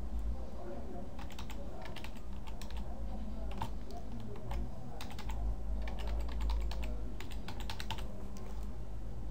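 Computer keyboard typing, a steady run of quick, close key clicks in irregular bursts over a low background hum.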